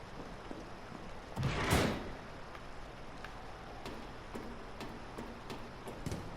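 In the video game Resident Evil 3, a door closes in a sewer with a loud sliding, scraping whoosh that lasts about half a second. Faint ticking clicks follow against steady background noise.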